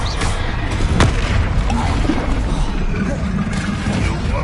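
Bombarda blasting spell going off in the Hogwarts Legacy video game, a sharp booming blast near the one-second mark over a dense, rumbling wash of combat noise that continues throughout.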